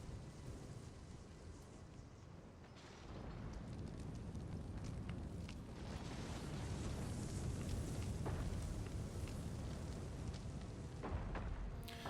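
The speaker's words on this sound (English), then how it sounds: "First barrage of the siege." Siege artillery barrage in the strategy game Attila Total War, a dense, rumbling roar of distant explosions swelling into a continuous heavy wash of booms and crackle.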